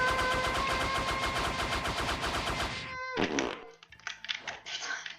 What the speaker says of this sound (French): il a pété, frère